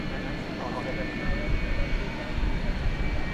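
A Singapore Airlines cargo Boeing 747-400 at DFW Airport at night, its jet engines producing a steady, loud whine and rumble near a UPS A300, with a voice talking over the noise.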